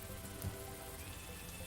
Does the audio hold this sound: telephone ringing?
no